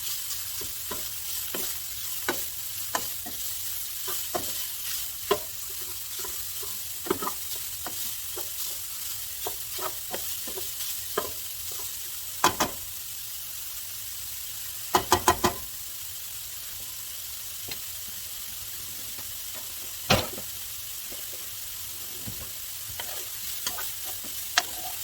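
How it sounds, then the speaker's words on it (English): Sausage sizzling steadily in a pan for soup, a constant soft frying hiss broken by scattered scraping clicks and clatters of a utensil stirring and pushing the meat around, with no talking. "our sausage is cooking well. And I'm going to get just a little tiny bit of brown on it"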